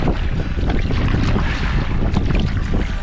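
Loud, steady wind buffets the microphone at an outdoor campsite in Michigan in fall, a continuous roaring rush with no voices over it.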